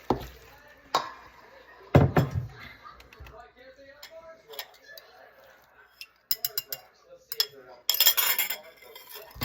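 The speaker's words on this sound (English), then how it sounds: "And I stir it, so I add air into the flour, into the dough." A utensil stirs bannock dough with an added egg in a bowl, with repeated clinks and scrapes against the bowl in an irregular rhythm; a voice talks over parts of it.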